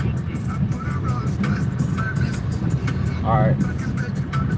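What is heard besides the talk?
car with trailer driving slowly at firing range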